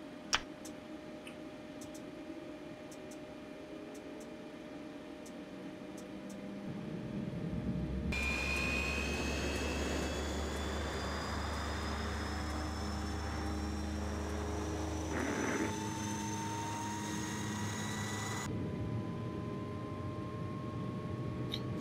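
A Fokker F27 turboprop engine starts up in the Prepar3D flight simulator, a steady rising whine and rumble building in over several seconds and holding loud and continuous under a low drone.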